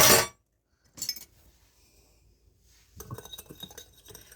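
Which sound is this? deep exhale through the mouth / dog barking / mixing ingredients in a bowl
mixing ingredients in a bowl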